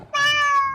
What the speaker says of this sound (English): Your cat on your head again?